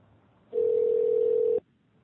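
A single steady telephone tone, loud and unbroken for about a second, sounds over quiet line hiss while a call goes out to a cell phone.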